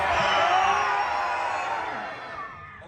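A crowd of guests at a Disney park show screams loudly together in one sustained, dense roar that slowly fades over a few seconds, heard from within the audience.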